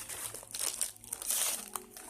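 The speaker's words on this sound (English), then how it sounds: "Alright, so we're gonna open this package." Someone opens and rips into a cardboard package they ordered, producing close, busy crinkling and crumpling with short tearing bursts throughout.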